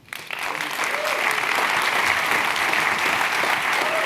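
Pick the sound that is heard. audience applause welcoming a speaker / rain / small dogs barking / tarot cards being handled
audience applause welcoming a speaker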